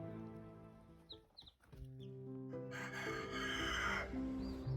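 Meat chickens from a breeding flock cluck and murmur in a steady stream, close by, with a rooster-like call rising briefly toward the end; no one speaks.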